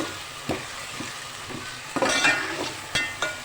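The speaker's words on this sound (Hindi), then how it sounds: "लहसुन अदरक का पेस्ट और मटर डाल के हम ऑयल में अच्छी तरह फ्राई करेंगे।" Garlic ginger paste, peas and whole spices fry in hot oil with steady sizzling, broken by several sharp stirring scrapes and clinks of a spoon against the pan, close and fairly loud.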